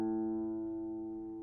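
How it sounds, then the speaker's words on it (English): A single guitar A string rings out in tune, a steady sustained harmonic tone that slowly decays over about a second and a half with no talking. "This is what the A string should sound like."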